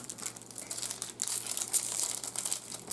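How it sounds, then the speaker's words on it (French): Pokemon Evolving Skies booster pack being torn and crinkled open, a close, continuous foil crackle with rapid crunchy bursts that swell toward the middle, with no talking over it. "le premier paquet que Brandon va ouvrir"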